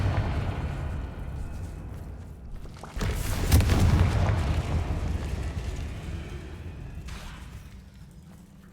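A Confringo spell blast in Hogwarts Legacy bursts into a deep rumbling boom that swells, holds for several seconds and fades into a hollow echoing tail, loud and close.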